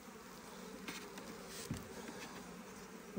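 Honeybees at an opened hive during a spring inspection, a faint steady buzzing hum with a few individual bees droning closer past the microphone.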